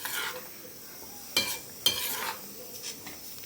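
Paneer stirred through butter masala in a pan over a high flame, with a soft sizzle broken by two or three sharp scraping clatters of the spoon against metal. It is fairly quiet and without voices.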